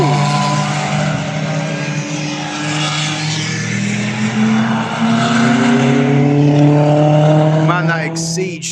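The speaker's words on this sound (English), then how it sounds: "Exige sounds really, really good." A Lotus Exige race car on the Cadwell Park circuit during a track day, its engine note loud and sustained, climbing steadily in pitch as it accelerates past, with a brief sharp crackle at the end.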